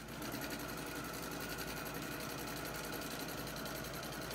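Steady, fast mechanical whir of a sewing machine stitching through a quilted table runner, running continuously at an even, close-up level with no pauses and no voices.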